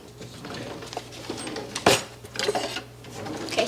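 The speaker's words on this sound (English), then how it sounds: "Adding sugar to the pot and powdered pectin to the pot." Sugar and powdered pectin go into a pot for dandelion jelly in a home kitchen, with soft clatter of utensils and containers against the pot and one sharper knock partway through, over a steady low background hum.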